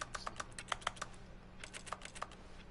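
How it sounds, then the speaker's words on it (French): A computer keyboard tapped in quick irregular bursts of keystrokes, crisp and close but fairly quiet, with a short pause in the middle before another run of typing. "je peux appuyer sur X et ça fait un bruit de clavier"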